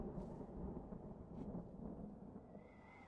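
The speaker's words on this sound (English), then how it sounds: "That thunder lasted for quite a while." Low, faint thunder in the video game Dragon Age 2 rumbles on at length as a deep, steady roll with slight swells, quiet and distant-sounding.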